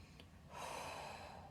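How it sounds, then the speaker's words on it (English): A person draws one deep, audible breath in, then releases a long, airy exhale, close and quiet with no talking. "Breathe and expel"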